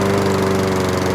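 A gas lawn mower engine runs at a steady, loud drone with a constant hum and rumble, close by and alone throughout the clip.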